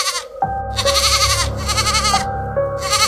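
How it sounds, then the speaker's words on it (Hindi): Goat tied up outside a house bleating loudly, several wavering cries in quick succession, close and harsh. "महेश के घर के बाहर बंधी बकरी जोर जोर से आवाज करने लगी"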